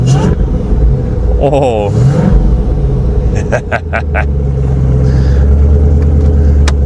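A wrecked car runs and revs, with a steady low engine rumble throughout, a voice briefly exclaiming over it partway through.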